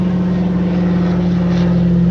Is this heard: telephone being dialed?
no